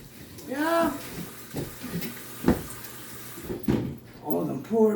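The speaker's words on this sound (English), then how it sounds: "Turn the sink on again. Yeah, wash my hands." A bathroom sink tap runs in short bursts of splashing water while hands are washed, close by, with a voice talking over it and some clunks between the bursts.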